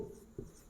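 Numbers written by hand with a pen or chalk during a maths lesson, a few short soft scratching strokes with one sharper tap partway through, close and quiet.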